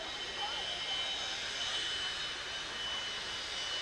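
Jet engine of a jet-powered race vehicle roars as a steady, loud broadband rush at a retro race event, constant and unbroken throughout, with no talk in the clip.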